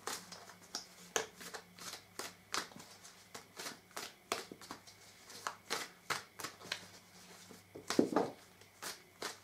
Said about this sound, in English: Let's pull a card for ego from the 5th tarot deck.